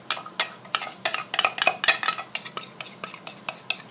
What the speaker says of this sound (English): Now we're going to mix that.